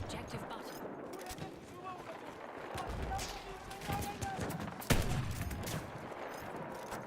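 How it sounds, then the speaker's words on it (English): A Hunter shotgun fires in Battlefield on the Argonne Forest map, with one sharp, loud blast standing out from steady, crackling battle gunfire and distant shots around it. "The Hunter shotgun on Argonne Forest"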